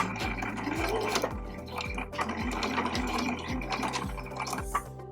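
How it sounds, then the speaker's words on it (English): A sewing machine stitches the pocket fabric of a bag, its needle thumping in a quick, regular run of stitches close by, with a faint watery hiss in the background. "I'm only sewing the pocket fabric, so I have the liner fabric pushed out of the way here"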